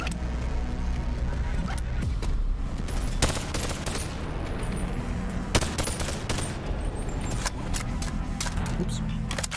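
Automated turret gunfire in the BONELAB VR game, sharp bursts and scattered single shots cracking over several seconds amid clatter, with a person talking at times.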